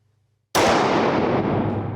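A pistol shot fired during a 2-1-1-2 shooting drill, one sharp loud report after a half-second of quiet, its ringing decay tailing off over the next second and a half.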